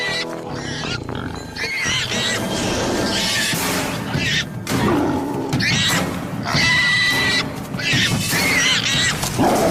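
A dragon's call in a wild hunting scene, shifting pitch to mimic distressed prey: loud, rough roaring and whinnying cries in repeated bursts with changing tone, layered over a dramatic background.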